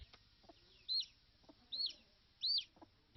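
Painted chickens at Ruiru Farm in Solai, Nakuru County, Kenya give three short, faint clucking calls spaced about a second apart against a quiet background.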